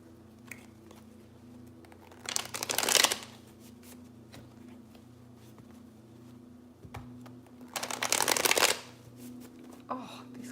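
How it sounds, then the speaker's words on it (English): A tarot deck is shuffled loudly and close up in two riffling bursts a few seconds apart, with a steady low hum between them. "these cards are getting loud"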